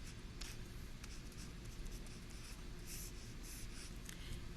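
A pencil scratches steadily on paper while solving a geometry problem: continuous, faint, close writing strokes with no speech.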